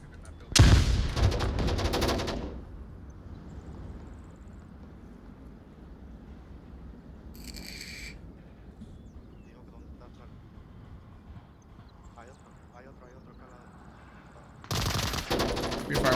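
Gunfire in the virtual reality shooter Onward VR during a competitive quarterfinal match: a loud burst of automatic fire at the start and another at the end, with quieter ambient noise and faint shots in between.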